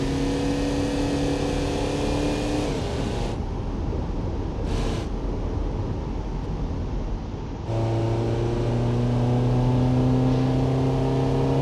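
The ETK1300 mod car's engine in BeamNG drones steadily with a shifting tone, rising through gears with a pause mid-run before revving back up, continuous and close with no talking.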